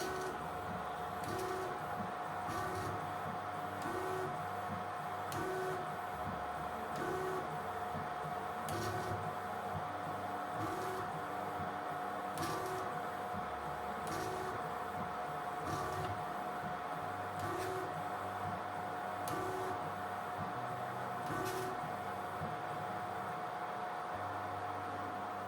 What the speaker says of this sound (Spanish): en cuanto le dé de nuevo a calibrar, cómo lo hace perfecto y con 4×4 puntos